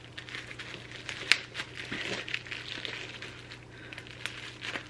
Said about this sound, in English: there's lots of packing tape happening here, and I can't find the end of this piece